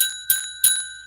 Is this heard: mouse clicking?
no